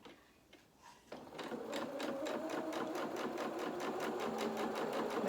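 After a short quiet pause, a sewing machine starts and stitches around a curved heel seam on a fabric toy rabbit limb, running close and steady with a rapid regular needle beat to the end.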